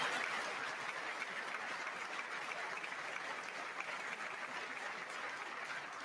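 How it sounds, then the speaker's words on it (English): Steady audience applause fills the chamber at a State of the Union address, a dense, even wash of clapping heard from a distance throughout, with no speech over it. "wasn't sure if anybody even on this side was going to applaud for that"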